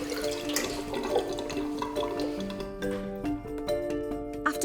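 Water draining down a kitchen sink plug hole after a blockage is cleared, a steady gurgling swirl with trickles and drips, close and continuous, with a faint tonal hum underneath.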